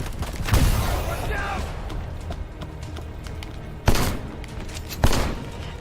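Gunfire in the video game Left Alive: a few sharp, loud shots at the start and two more bursts near the end, over a busy background of in-game noise.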